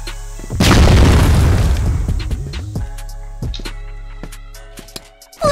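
A grenade explosion in the CrossFire video game: one loud, close boom bursts out about half a second in and rumbles down over a few seconds, followed by small scattered clicks and pops.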